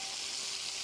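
Steady, dense sizzle of a steak searing on a grill heated to about 600 to 650 degrees, a close, even hiss with no breaks and no talking.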